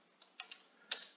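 A few sparse, faint keystrokes on a computer keyboard, about four separate taps with the last one sharpest, heard alone in a quiet room.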